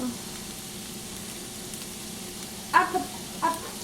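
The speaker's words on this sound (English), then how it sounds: "I will add the onions in here." Onions go into a hot pan in a home kitchen while breakfast is cooked, giving a low steady sizzle with two brief louder bursts near the end as they hit the oil and are stirred.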